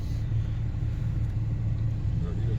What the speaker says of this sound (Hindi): गाड़ी जी गर्म हो रही है।